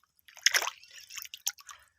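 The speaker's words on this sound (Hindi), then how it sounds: "आए हाथ धोने के लिए थोड़ा सा पानी खड़ा है, वो थोड़ा सा इस्तेमाल कर लेता हूँ" Hands are washed with a small amount of standing water, giving close wet squishing and dripping splashes in short irregular bursts.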